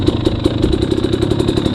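A 300 dirt bike engine runs steadily with a loud, close, rapid pulsing beat at a hare scramble in muddy conditions, with no voices over it.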